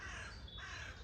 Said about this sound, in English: even the crows are agreeing this morning